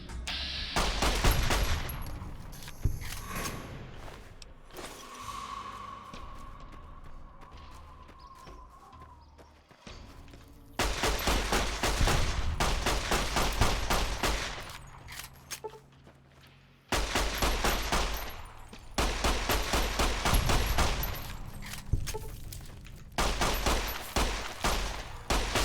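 Rapid bursts of 9mm pistol fire in the video game Fallout New Vegas, loud sharp shots in quick volleys separated by short pauses, repeating throughout with no talk.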